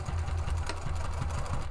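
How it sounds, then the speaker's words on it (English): A sewing machine stitches pockets onto a planner cover body panel, a steady close mechanical whirr with a fast rhythmic needle pulse running the whole time, no voices. "Add some back stitching."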